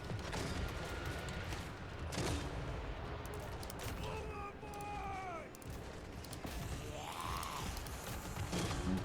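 Gunfire volleys in a Total War Vampire Coast battle come in repeated bursts and cracks over a constant battle din. Someone talks over the shooting.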